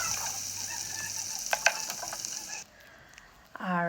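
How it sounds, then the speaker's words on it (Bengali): Beef frying in a tablespoon of oil for homemade biryani gives a steady crackling sizzle with a few sharp spatters and stirring scrapes, then drops off before a brief clatter at the end. "তো আমি এরপর 1 টেবিল স্পুন অয়েল দিয়ে আপনার মাংসটা ভেজে নেব।"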